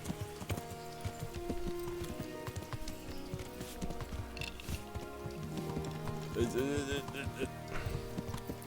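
Horse hooves clip-clop steadily in the medieval game Kingdom Come: Deliverance as a blacksmith rides by, with a brief whinny near the end, under game music and someone talking.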